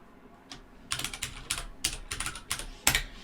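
Steady typing on a computer keyboard, a quick run of close, crisp key clicks in uneven bursts with no talking over it.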